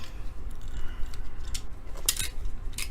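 A large new knife clinks and scrapes in short, light metallic ticks and taps while trading card packs are opened.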